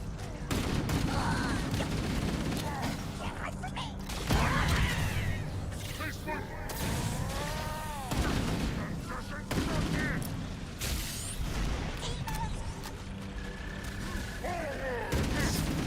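Assault rifle fire from Halo: Campaign Evolved comes in dense, sustained automatic bursts with booming impacts and explosions, loud and continuous through the whole stretch, mixed with game effects and speech.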